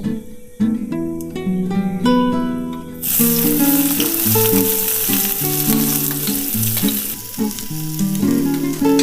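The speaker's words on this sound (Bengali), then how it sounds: "পেঁয়াজটা দিয়ে আমি একটু ভালো মতো ভেজে নেব" Onion frying in hot oil with panch phoron, loud continuous sizzling that swells when the onion goes in, while music plays over it with no talking.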